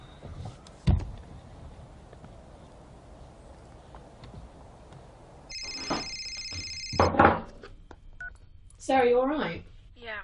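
Touch-tone keypad beeps sound as a phone number is dialed, arriving as a quick burst of electronic tones in the middle of an otherwise quiet scene. A thump and a rustle come before the beeps, and other noise follows.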